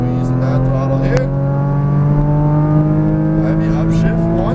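A Porsche Cayman GTS accelerating hard on a racetrack at Exotic Racing Las Vegas, its engine a loud, steady rising drone from close by with an instructor talking over it.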